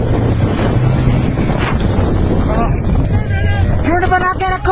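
Strong windstorm in Gulmarg roars into the microphone as a loud, continuous buffeting rush, with excited voices shouting close by throughout.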